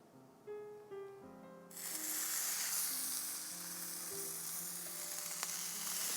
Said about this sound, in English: so we can get these mullet on the grill. Oil side down first.